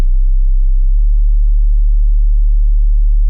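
A pure sub-bass sine tone at C sharp from Ableton Live hums low and steady, loud and unchanging, with nothing else around it.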